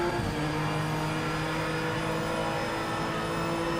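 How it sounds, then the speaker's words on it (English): A BMW M4 race car engine in Project Motor Racing holds a steady, high droning whine at sustained revs, loud and constant with no pauses. "This is a BMW M4."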